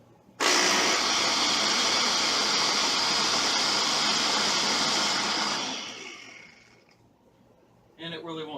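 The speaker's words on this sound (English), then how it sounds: "Blend that up again." A kitchen blender purees tomato soup with red pepper and a little black pepper in one loud, steady whir of several seconds. The motor then winds down and stops, and a voice begins to speak.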